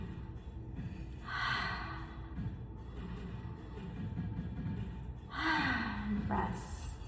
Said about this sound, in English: Taking a few breaths here.